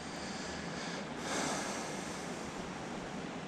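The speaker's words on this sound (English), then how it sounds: "How's the river flowing over here?" River water in South Dakota flowing steadily, a continuous broad rushing wash with wind buffeting the microphone, swelling briefly midway, no talk.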